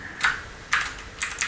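A computer keyboard clatters in three short bursts of keystrokes separated by pauses, close and fairly quiet, with no talking.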